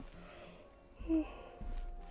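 A single short yawn-like exhale from a person, a brief breathy sigh rising and falling near the middle, quiet and close over low background hum.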